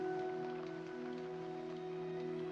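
A scene from the film Misery (1990) carries a quiet, continuous rainfall, a soft spread-out patter layered over a low steady tone, with no one speaking.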